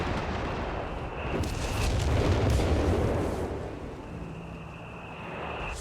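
Howitzer artillery booms from a heavy gun in the Company of Heroes 3 video game. Rumbling explosions and a dense crackling battle din stay loud throughout.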